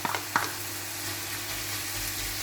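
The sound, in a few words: bacon lardons and raw sauerkraut cooking in pan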